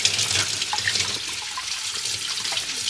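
Tap water runs steadily into a sink as a drinking straw for an iced matcha latte is rinsed, a continuous bright splashing hiss close by with no one talking.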